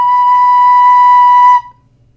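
A recorder plays a single clear, steady B note for about a second and a half, then stops cleanly into silence.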